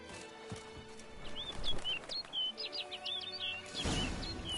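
A bird in The Witcher 3 game world gives a run of quick chirping calls over ambient outdoor sound, with soft horse hoof clops underneath and a louder whoosh near the end.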